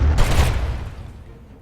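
Spaceships trade fire in a Master of Orion space battle, a dense burst of booming blasts in the first half second that decays into a rumbling tail.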